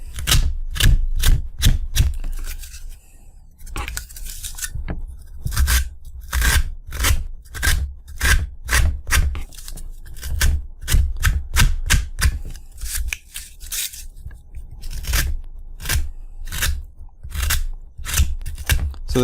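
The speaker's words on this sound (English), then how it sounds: "I'm going to take our hobby knife and just whittle it out." An X-Acto hobby knife whittles high ridges off a small model part, making sharp, rapid scraping cuts in a steady, close stroke-by-stroke rhythm.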